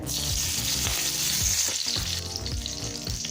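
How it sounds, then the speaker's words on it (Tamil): Cinnamon, clove and curry leaves frying in hot oil in a kadai for an egg kulambu, a loud steady sizzle with crackles running under background music the whole time. "கடாயில் தேவையான அளவு எண்ணெய். முதல்ல ஒரு பட்டை, ஒரு கிராம்பு, கொஞ்சம் கருவேப்பிலை."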